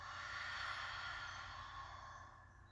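A long, breathy sigh pushed out through the mouth, one soft airy exhale close to the mic that slowly fades.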